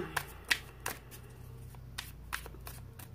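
Tarot cards are shuffled by hand in a quiet room, giving soft papery riffles and several crisp snapping flicks spread irregularly over a few seconds, close by with no talking.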